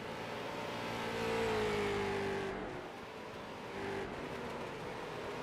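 Stock race cars circling the Irwindale track, engines roaring past at a distance with a rising then fading whine as one car sweeps by, followed by another pass, heard without any talk.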